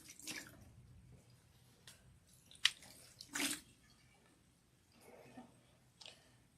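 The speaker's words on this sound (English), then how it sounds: "Give me some water so I can also wash" Water poured over a person's hair during washing, a few short splashing bursts and drips at close range, fairly faint with quiet gaps between pours.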